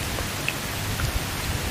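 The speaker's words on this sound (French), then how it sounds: "cette pluie qui continue à tomber" Continuous rainfall hisses evenly throughout, with a few scattered drop taps standing out, and nobody speaks.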